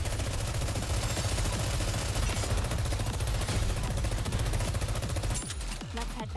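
Sustained rapid automatic gunfire in a video game campaign, loud and continuous, with dense overlapping shots that thin out briefly near the end.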